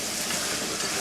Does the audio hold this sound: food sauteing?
yes